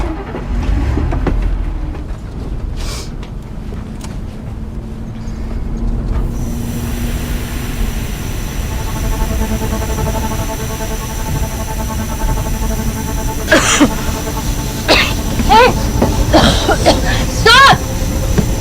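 Steady engine rumble of a vehicle driving in the video game The Complex, a continuous low drone running the whole way under tense voices, with sharper clanks and bursts near the end.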